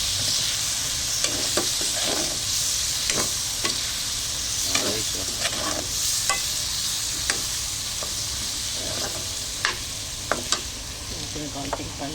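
Meat sautéing in a pan for Hawaiian pochero, a steady loud sizzle with repeated scrapes and clacks of stirring scattered throughout, no talking.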